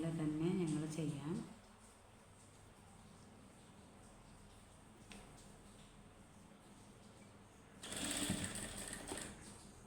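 A sewing machine stitches fabric in two close, rapid runs, one at the start and one near the end, with a quieter stretch of low background noise between them.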